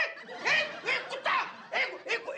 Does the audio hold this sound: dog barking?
yes